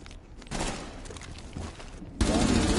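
Bursts of gunfire during a competitive video game gunfight, a quieter opening followed by loud rapid volleys, the heaviest burst arriving near the end.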